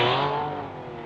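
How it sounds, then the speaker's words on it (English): The big red Porsche rally car of Brian Evans pulls off the start line at a 1976 Circuit of Ireland stage, its engine loud and close at first, then fading as the revving note drops away. "going off the line, the big red Porsche of Brian Evans"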